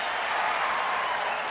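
A baseball stadium crowd of nearly 50,000 at a Yankees–Rangers game in Texas roars in a steady, dense wash of cheering, loud and continuous from start to finish with no single voice standing out.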